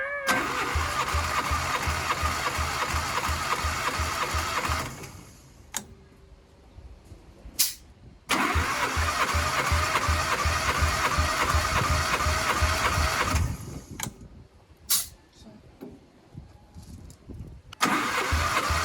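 A car engine with its spark plugs removed cranking over on the starter: two long, rapid, even churning runs of about five seconds each, separated by quiet gaps with clicks and brief noises.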